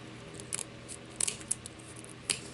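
Scissors snip through paper for a handmade sparkly cross ornament of sticks, paper and pearls, giving a few sharp close crisp cuts in small bursts over a soft room background.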